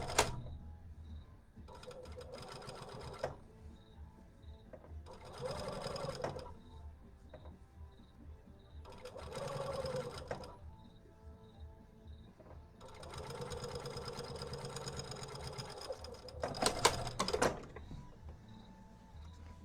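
A sewing machine top stitches fabric in several bursts of fast, rhythmic mechanical whirring, separated by short pauses, heard up close with no talking.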